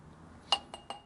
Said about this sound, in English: Scrape it a little tighter. Little tighter off the top of the edge of the glass.